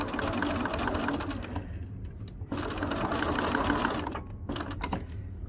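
A sewing machine stitches a shoulder seam in short bursts, running for a couple of seconds, pausing, then running again, close and fairly quiet with no talking.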